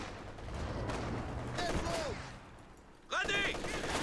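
MG34 machine gun bursts in the Company of Heroes 2 video game, distant rattling fire mixed with other battle noise, then a sharper, louder volley near the end.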